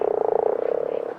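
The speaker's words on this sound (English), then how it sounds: "Beelzebufo palucoccus is the largest frog I've ever seen." A giant Beelzebufo frog in the game ARK gives one loud, close, rattling croak made of rapid pulses for about a second, then stops abruptly.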